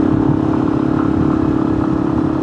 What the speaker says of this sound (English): Nice to take Joe's bike for a little ride.